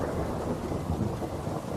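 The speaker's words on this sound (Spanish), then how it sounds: "se oyó un trueno tan fuerte que nos hizo brincar en la cama a todos" A heavy thunder rumble rolls through without pause, deep and loud, with rain noise mixed in and no voices.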